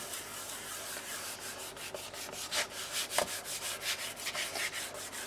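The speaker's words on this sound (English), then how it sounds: "Give it a good old rub." Paper is rubbed firmly onto a page of a keepsake book, giving a steady, close, dry brushing scrape with quicker strokes toward the end, with no talking.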